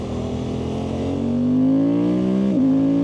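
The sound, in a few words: Suzuki GSX-8R motorcycle engine shifting through gears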